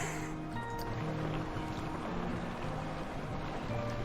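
A short stretch of the boat ride in the Planet Coaster video game, where water lapping and splashing sits under soft sustained musical tones, steady and moderately loud throughout.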